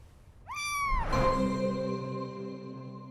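A cat gives a single loud, drawn-out meow that rises and then slides down into a lower, fading tone, close and alone against a quiet background.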